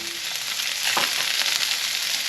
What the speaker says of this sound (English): And any extra fat, just straight into the pot.